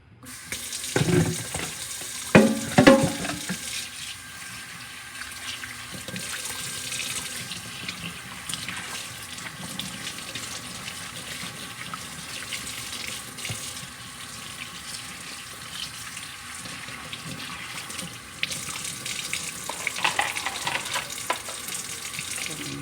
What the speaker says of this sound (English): This is how I can clean this pitcher out because this was sugar water in it.